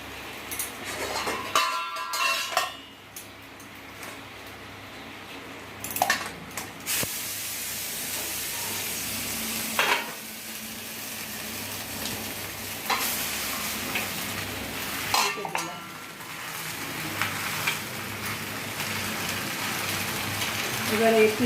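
Egg and cauliflower wrapped in banana leaf sizzling and frying in a pan, with a steady crackling hiss throughout and a few louder scraping bumps as the parcel is turned over.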